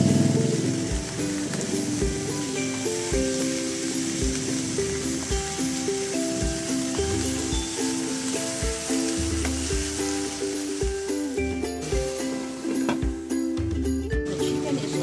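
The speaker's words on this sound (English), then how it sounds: "Saute the chicken until brown." Chicken for a curry sizzles steadily in a hot pan as it browns, with a regular rhythmic tapping and occasional scraping as it is stirred.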